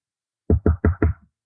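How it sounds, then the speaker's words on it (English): Four quick, solid knocks on a door in a story, close and fairly loud with a dull wooden thud, evenly spaced and heard alone against silence. "There was a knock at the door"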